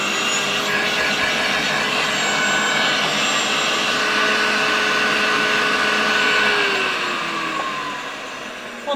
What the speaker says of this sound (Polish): Odkurzacz bardzo ładnie rusza.